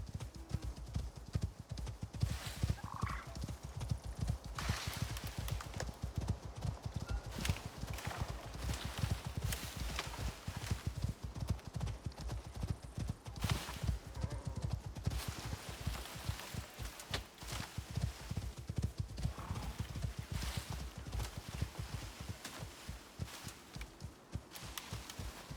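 Horse hooves clip-clop in a steady galloping rhythm while a rider travels on horseback in the survival game Icarus, continuous and moderately loud with an occasional faint whinny.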